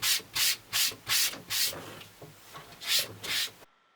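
The cut edge of a handmade leather belt being sanded in about eight rhythmic, close rasping strokes that pause briefly midway. The strokes stop abruptly into silence, and no voices are heard.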